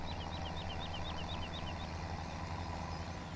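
A tractor in the video game Farming Simulator 2017 on Xbox One idles with a steady low engine drone, while a repeating chirping beep pattern runs over it for about three seconds.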